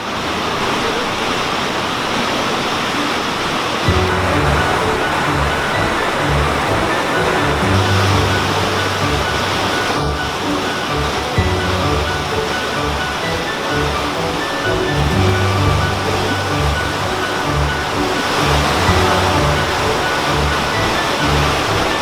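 A river flowing through the Smoky Mountains: a loud, steady rush of churning water, close and constant, with no voices.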